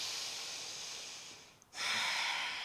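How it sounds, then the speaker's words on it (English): Slow, deep breaths during a yoga session: a long, airy exhale fades out, a short pause follows, then a strong breath hisses in up close. "Take a couple of breaths."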